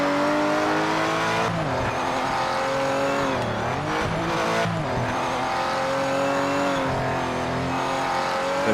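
A race car in the game Project Motor Racing laps the track with a loud, continuous engine drone that rises and falls through gear changes, with brief tyre squeal and skidding mid-run, no talk.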